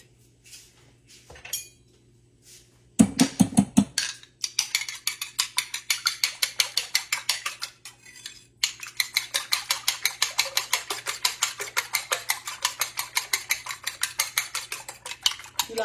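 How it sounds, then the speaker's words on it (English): A fork beats eggs in a bowl for breakfast, rapid rhythmic clinking and whisking strokes close by, a short burst first and then a long steady run of quick taps. "You like to beat your eggs up."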